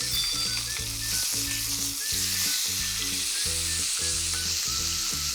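Steak sears in a hot pan after being flipped, sending out a loud continuous sizzle and spatter close up, with some stirring or scraping and no voices.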